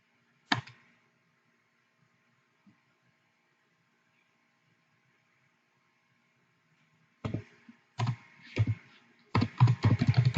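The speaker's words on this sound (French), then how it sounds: "Je tape encore point." Keys tapping on a computer keyboard: one isolated click, a long silence, then a quick burst of close, crisp keystrokes in uneven clusters.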